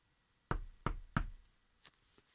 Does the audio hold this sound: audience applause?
no